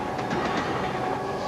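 A large train rolls steadily along the rails just past city limits, a loud continuous rumble with rhythmic clickety-clack of wheels over rail joints, close and unbroken, with no talking.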